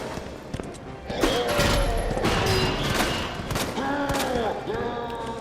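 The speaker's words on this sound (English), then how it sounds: "Reload and keep firing." Repeated gunfire from Claire's handgun during Hardcore Resident Evil play, a dense run of shots and impacts with game effects layered over a steady background, fairly loud throughout.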